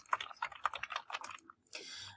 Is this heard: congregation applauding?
no